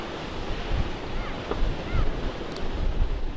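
Dangerous Atlantic surf driven by cyclones Humberto and Imelda pounds a coast lined with houses, a continuous rushing roar with wind and a few faint higher calls above it.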